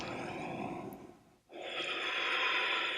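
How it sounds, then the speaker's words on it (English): Close, heavy breathing during yoga push-ups: a long airy breath, a brief pause, then another strong, steady breath with no talking. "Keep breathing here."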